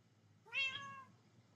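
A cat meows once inside the Minecraft video game, a single clear, moderately loud rising-falling call in a quiet game scene.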